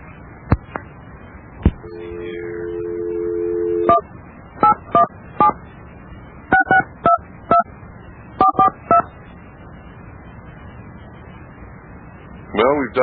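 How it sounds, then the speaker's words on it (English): A telephone number is dialed on a keypad, producing a series of short touch tones in clusters, with a brief dial tone early on, over a noisy phone line and faint background voices. "Well, we've dialed the number"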